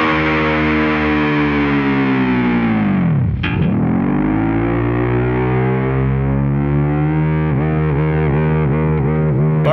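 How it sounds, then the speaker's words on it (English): Distorted electric guitar dive bomb on the low E string, the whammy bar dipping the pitch way down into a slack, flapping growl and then slowly rising back up, loud and sustained, with choppy fluttering near the end. "hit the E string, dip it way down till it's basically flopping around down there, and then slowly bring it up"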